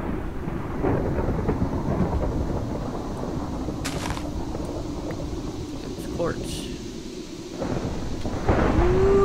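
A thunder and lightning storm in modded Minecraft, with continuous heavy rain and rumbling thunder throughout and a louder crack near the end, while someone talks briefly.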